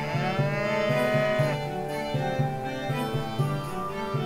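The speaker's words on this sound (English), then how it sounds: "Why is there a cow in the kitchen?" A cow lows repeatedly in a retro RPG Maker farming game, drawn-out moos over a looping, rhythmic game tune, with no talking.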